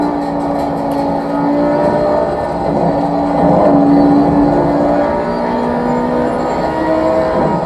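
A GT3 race car engine drones in Assetto Corsa Competizione, driven on a Fanatec GT3 endurance wheel rim, with loud sustained tones that rise and fall in pitch through gear changes, steady with no talking.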